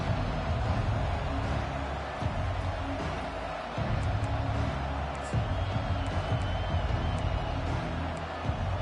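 A packed stadium crowd at a college football game keeps up a loud, constant roar with cheering swells, a dense wash of noise that never drops away.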